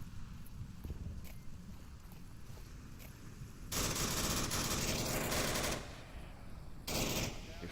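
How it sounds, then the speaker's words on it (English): Rapid automatic gunfire in the VR shooter Onward, with faint scattered shots early on followed by two long, loud sustained bursts of firing, close and dense, without any talking. "We fire down the lanes over towards Rybo and Nintendo"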